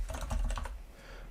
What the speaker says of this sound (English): So I've been clicking on these and just typing away.